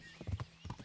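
Horse hooves in the video game Kingdom Come: Deliverance, a quick series of soft clip-clop steps, about five thuds in under a second, faint and close with no talk over them.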